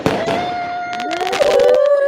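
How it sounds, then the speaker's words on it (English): Fireworks crackle and pop through a celebration, with a dense run of sharp bursts and whistling streaks overlapping a steady background tone, loud and close. "fireworks."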